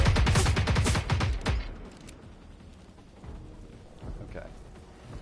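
Rockets and heavy gunfire burst loudly from enemy machines in Generation Zero on hardcore mode, a dense rapid barrage for the first second and a half that gives way to a low rumbling aftermath.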